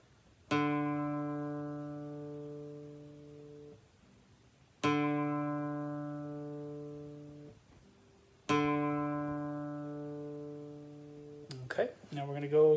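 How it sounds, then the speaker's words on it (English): A guitar's D string is plucked three times in a steady sequence, each bright note ringing and slowly decaying, followed by a short rustle of handling. "you want your D string to sound like this."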